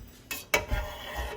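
Knife chopping cheese curd in a metal pot, two sharp clinks against the pot followed by soft wet stirring and sloshing, close and quiet with no talking.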